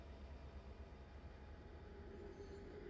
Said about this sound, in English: as this train enters the station